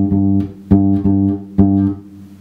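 Bass guitar playing a fretted G note on the 5th fret of the D string, plucked several times in a steady rhythm, close and clear with each note ringing briefly before the next.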